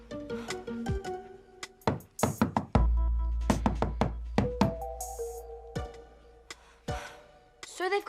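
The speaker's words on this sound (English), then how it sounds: "So they've got our secret knock." A patterned secret knock raps on a door in a teen TV show, a run of sharp close knocks in an irregular rhythm over a musical score with a low sustained tone.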